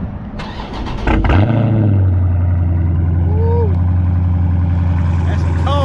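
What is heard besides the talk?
car engine cold start, Raiden SS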